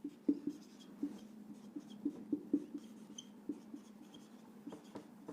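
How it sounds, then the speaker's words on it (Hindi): Marker or chalk writing on a board in a maths lesson, a quiet run of scratchy taps and short strokes at an irregular pace, heard alone and close. "तो ये हम लिख लेते हैं"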